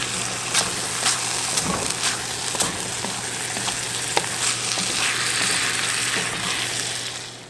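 Goat meat curry sizzles loudly in a frying pan while being stirred, with scraping and clinking spoon strokes cutting through the steady frying hiss, no talking.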